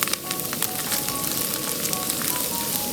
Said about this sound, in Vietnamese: xào nốt mẻ thứ hai